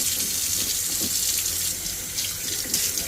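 Tap water running over a coleus cutting as it is rinsed at a sink, a loud, continuous close splashing stream with slight variations as the cutting moves under the flow.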